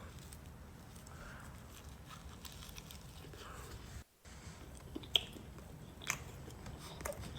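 Close, quiet chewing of a kebab croissant filled with melted cheese, with soft crunchy bites and mouth sounds over a low background hum.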